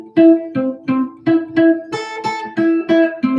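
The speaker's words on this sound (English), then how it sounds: "if we played on top of the frets, it would sound like this" A guitar note fretted with the finger right on top of the fret is plucked about ten times in a steady rhythm, each pluck clear and close with a short ring.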